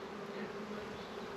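Honeybees buzz around their hive in a steady, close drone. The humming is continuous and even with a faint higher whine on top, and no voices are present.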